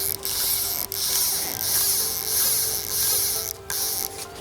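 Rapid fly reel ratchet clicking in a continuous buzzing run while line is pulled through a new Hardy Ultralite fly rod, close and loud with brief pauses, no talking.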